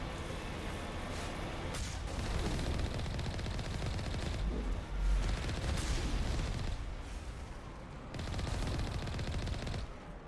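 Rapid gunfire and rocket blasts from Geth rocket troopers in a tunnel in Mass Effect, dense and continuous with bursts and brief lulls, loud and close.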